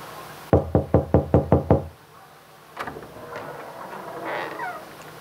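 A door is knocked on during a stage play at a college annual cultural fest: seven quick, evenly spaced, loud raps, followed by faint shuffling and rustling sounds.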